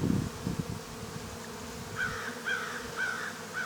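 Bees buzz around an opened beehive during a spring cleaning, a faint continuous drone with a few handling rustles at the start and short, repeated higher buzzing bursts toward the end.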